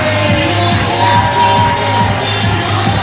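Wrestling crowd cheering and roaring throughout as a performer plays up to the fans while entering the ring, a dense, steady wall of voices close and loud with scattered shouts.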